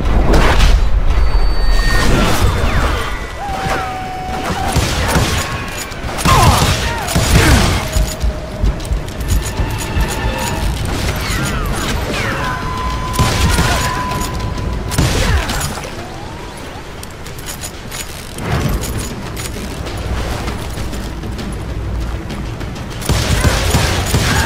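Heavy gunfire shootout in the Western video game Call of Juarez Gunslinger, with repeated loud shots and booming blasts in dense bursts across the whole stretch, mixed with ricochets and game effects.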